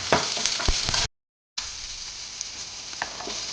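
Onions frying with curry leaves, chillies and a little salt give a close, steady sizzle and crackle. It cuts out briefly for a moment of silence, then carries on.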